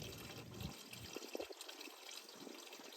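Engine oil drains from a Yamaha SHO 250HP outboard, a quiet close liquid pour and splash that trickles off into faint dripping.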